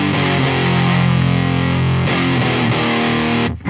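Electric guitar played through a Fuzz Face fuzz pedal fitted with a 0.1 ceramic capacitor, a loud, thick, saturated distorted chord sustaining for about two seconds before a second strummed chord rings on and is cut off.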